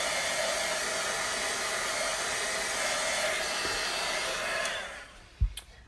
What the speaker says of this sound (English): Let's heat dry it.